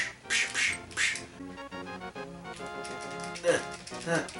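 A cucco chicken in The Legend of Zelda: A Link to the Past squawks in repeated harsh, honking cries when struck, loud and close over game music.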